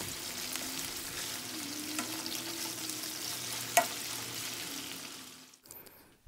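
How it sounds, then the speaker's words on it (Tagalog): Garlic and marinated chicken pieces fry in a pan for a Coca-Cola garlic chicken dish, a steady close sizzle with light stirring clatter and one sharp tap midway, fading out near the end. "isasama na rin natin dito para maisama sa ating pagpiprito para mabango"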